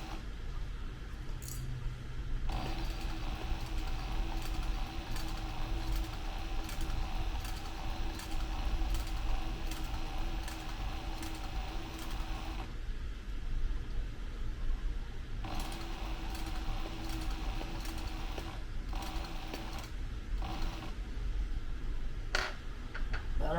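A sewing machine stitches a Lewis and Clark backpack in steady bursts of rapid mechanical clatter, running for several seconds, stopping briefly and starting again, close and fairly quiet with no talking.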